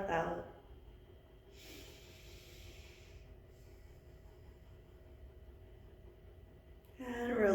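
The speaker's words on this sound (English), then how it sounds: "One more full breath in. One more full breath out." Slow, full breaths during a yoga practice: a long airy exhale drifts through the middle of a quiet stretch, framed by brief breathy sounds at the start and end.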